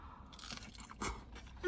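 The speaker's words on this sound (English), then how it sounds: "Tortilla's got a great crunch." A crunchy tortilla from a tortilleria is bitten and chewed close by, with quiet crisp crunches and a louder crackling bite near the middle.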